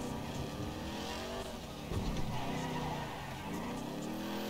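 A car in GTA V drives hard with a loud continuous engine drone and brief tire squeal and skidding as it turns, no talking.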